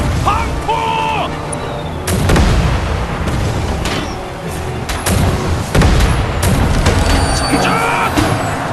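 Cannon volley from Joseon warships in a naval battle, heavy booming blasts at intervals over a dense roar of battle noise, with shouted commands among the din.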